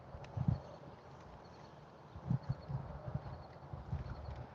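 A ridden horse at a rescue farm clip-clops along at a walk, soft hoofbeats in uneven clusters of two or three, moderately close on a quiet background.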